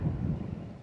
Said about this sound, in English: There's the thunder.